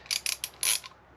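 A ratchet works loose a rusted brake part on a Honda Accord, giving several short bursts of quick clicking and then one longer, louder run, close up with no talking.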